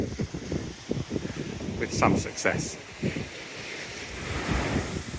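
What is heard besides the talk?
breezy wind on the Norfolk coast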